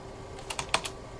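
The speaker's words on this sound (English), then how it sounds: "Look, I'm typing too fast." Fast typing on a computer keyboard while entering a server reboot command, a short burst of four crisp keystrokes in quick succession, close and fairly quiet with no talk.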